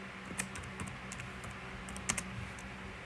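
Light, scattered keystrokes on a computer keyboard, irregular taps and a few quick bursts, quiet against a steady room hum with no talking.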